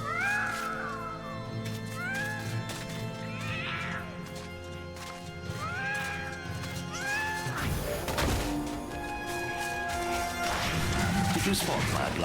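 Several cats meow in the video game MediEvil: rising, bending cries repeat at intervals, some overlapping, over busy game music and clatter with a crash near the end, while a person talks.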